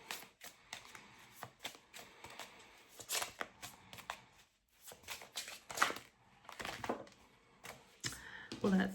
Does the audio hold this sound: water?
no